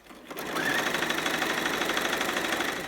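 Sewing machine stitching through a quilt, starting after a brief pause and running at a steady fast mechanical whir with rapid needle chatter for several seconds, close and loud, no talking.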